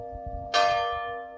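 A single church bell strikes once in a small, quiet Portuguese village, a loud clear clang that rings out and slowly decays over a low steady hum.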